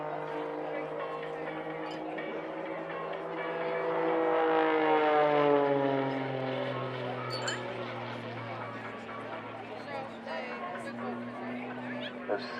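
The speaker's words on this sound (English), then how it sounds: "Now watch it as he pulls the power back on the aircraft and just hangs in the air with the propeller" A propeller aerobatic aircraft performs at the Blackpool airshow, its engine a loud, steady harmonic drone that swells midway and then slides lower in pitch as the power eases back.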